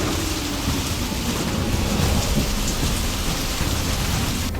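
Heavy rain pours steadily around a roadside dhaba on a stormy night, with low thunder rumbling beneath the dense, constant hiss and no voices.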